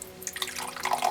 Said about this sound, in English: let's give this a crack in the pour and see, what are we dealing with this Mountain Dew Dirty Dew